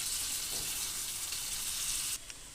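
Potato pieces fry in a pan with tempering spices, giving a steady, dense hiss of hot oil that holds evenly, then drops slightly softer near the end, with no talk.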